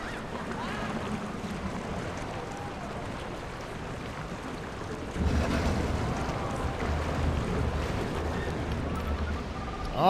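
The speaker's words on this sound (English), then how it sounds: "I liked this little water raft ride here." Water raft ride drifting through splashing water features on the Moon Rover River at Galaxy Adventure Park, a theme park video game, a steady wash of rushing water that grows louder and rougher midway, with no talk.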